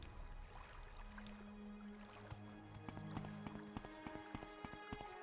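A video game character's footsteps run in quick, loud, steady succession over layered game music and ambient tones.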